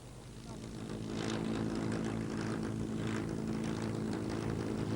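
A propeller aircraft drones past steadily at the Royal International Air Tattoo 1996 in Fairford, UK. It is the jump plane used by the RAF Falcons parachute display team, and its engine hum stays loud and constant throughout.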